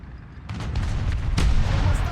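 A tank taking a hit in War Thunder, a sudden booming impact followed by rumbling low-end engine and battle noise, then a second sharp crack, loud and close.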